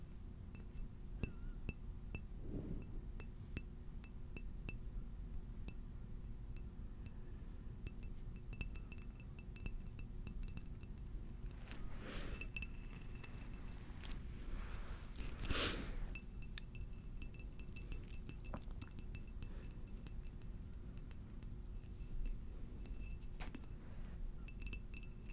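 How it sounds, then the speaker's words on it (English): Scattered light taps and clinks on ceramic and glass objects, some ringing briefly, spaced irregularly over a steady low background hum, with a few slightly louder strikes in between. "I really liked tapping on ceramic and glass type things"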